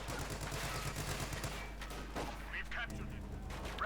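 Browning light machine guns and rifles fire in the strategy video game Company of Heroes 2. Quiet bursts of gunfire crackle over a steady battlefield rumble, and a brief higher-pitched tone cuts in near the end.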